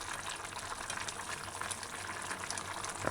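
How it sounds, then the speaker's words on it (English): Beef and broad bean brown stew with thyme and ginger simmering in a covered pot, giving a steady soft bubbling hiss with small pops, fairly quiet and continuous with no voices. "so just make it simmer down to gravy"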